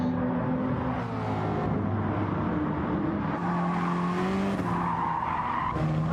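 Race cars in a sim racing game squeal their tires continuously while skidding through corners at Dragon Trail Gardens, engines droning steadily underneath at close range.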